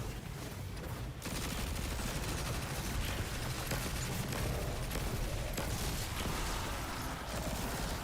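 Heavy sustained gunfire in the Destiny 2 video game, a dense continuous barrage of rapid shots filling the whole stretch at steady loudness, with a brief dip near the start.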